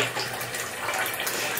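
Tap water runs steadily into a bathroom sink as a makeup brush is wetted, a close, continuous hiss and splash with no pauses.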